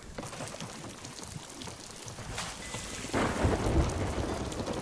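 A Sea of Thieves video game thunderstorm aboard a ship, with steady rain and rumbling thunder that swells louder partway through, heard alone without voices.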